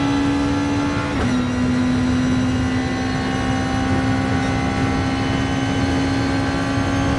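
Steady engine drone of a Gr.2 race car at Fuji in Gran Turismo, holding a constant note with one brief shift near the start, loud and continuous with no talk.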